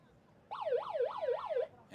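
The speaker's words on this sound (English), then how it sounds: "the siren goes for half-time" A loud wailing half-time siren at a rugby sevens match in Jakarta, Indonesia rises and falls about four times in a steady rhythm, then cuts off abruptly.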